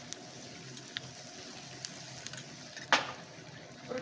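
Neem flowers frying in a pan for vepampoo pachadi, a soft continuous sizzle with a few small pops and a brief louder crackle, heard close and alone without talk.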